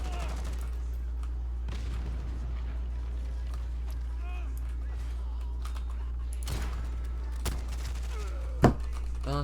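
A teammate's gunfire in a video game comes as a few sharp, sporadic shots and thuds over a steady low hum, with quiet talk and keyboard clatter in between.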